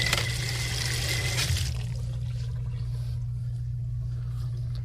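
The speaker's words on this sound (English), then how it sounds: "into the eye wash I go" Water from an eyewash station gushes in a steady, close hiss with a low constant hum beneath, loudest and brightest at first before settling into a softer continuous flow.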